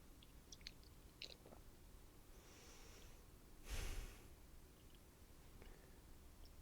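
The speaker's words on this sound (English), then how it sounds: "Just listen to me chew as you think about it." Quiet close-up chewing of food, soft wet mouth sounds and a brief louder crunch or snort midway, with no talking.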